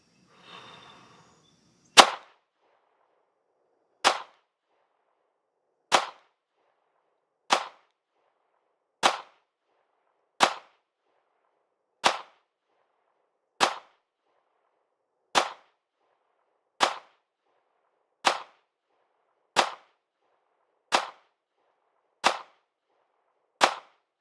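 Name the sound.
gunshots from a SIG P320 RX Compact pistol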